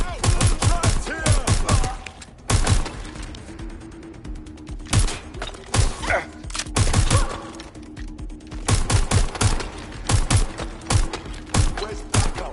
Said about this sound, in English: Target is firing!